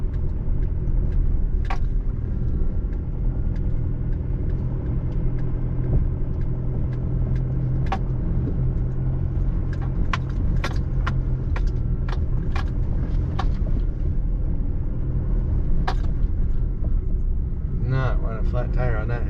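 A four-wheel-drive vehicle's engine labors in a low, steady rumble climbing a steep off-road hill on Skull Creek Road in the Owyhee Wilderness, with occasional clicks and rattles throughout.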